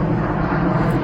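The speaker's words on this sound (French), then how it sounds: "Ah, un avion." An airplane passes overhead above a rural estate with a manor and ruins, giving a loud, steady broadband engine roar that fills the whole short stretch with no talking.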